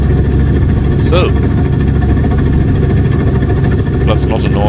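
In a flight simulator game, a small aircraft's engine drones on steadily and loudly just after takeoff, with someone talking over it.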